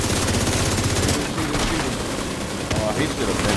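Rapid automatic gunfire from The Division 2 rattles in dense, continuous bursts up close, with a voice speaking underneath the shooting.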